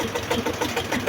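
A tractor engine running during a ride, a steady chugging drone with a rapid pulsing rhythm, close and fairly loud.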